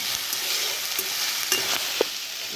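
Cumin, mustard seeds and two dried chillies sizzle and crackle in a small amount of hot oil for a thotakura curry, a steady close frying hiss with scattered sharp pops and stirring clinks.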